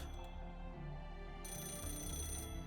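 A telephone rings in the video game Fate/Grand Order, a steady electronic ring carrying on at moderate volume over a low background hum, with no talk.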